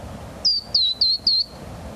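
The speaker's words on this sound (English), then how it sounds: "the plain titmouse is a common bird of parks and yards along the California coast" A plain titmouse, a small gray bird of parks and yards, gives four clear, high, slightly descending whistled calls in an even, quick series, close and distinct over a faint background hiss.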